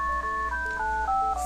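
A telephone sounds with a steady electronic tone, its pitch stepping downward in several stages over a constant low hum, close and without talk.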